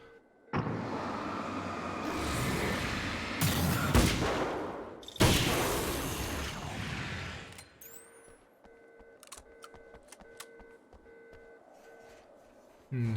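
Rapid bursts of gunfire from a carbine in Alan Wake's American Nightmare crackle loudly for several seconds, with sharp booming shots. Then quieter clicks and scattered game noises follow.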